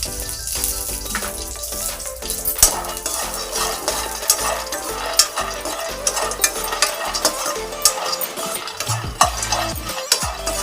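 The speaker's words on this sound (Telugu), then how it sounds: "వీటిని ఫ్రైగా వేయించుకోవాలి. కొంచెం ఆయిల్ వేసుకొని" Vegetables frying in a little oil in a pan, with a constant sizzle broken by frequent scraping and clinking stir strokes, close and busy, no voices.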